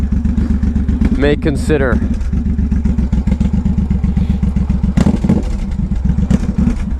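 The engine of a 2014 Suzuki M109R BOSS motorcycle idles up close with a loud, steady, deep pulsing thump, briefly overlaid by a revving burst, while someone talks over it.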